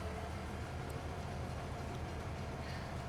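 A train in the farming game Farming Simulator 2022 rumbles steadily at a low level, a continuous broadband rail noise with no talking.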